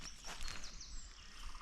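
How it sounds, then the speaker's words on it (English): A wren sings in a winter dawn chorus, its rapid high trills faint and distant amid other birds, with no talking over it. "there's a wren singing up ahead."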